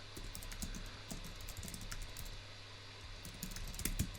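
Rapid, fairly quiet clicking of a computer keyboard as an SQL query is typed, with keystrokes in uneven bursts and brief pauses over a low steady hum.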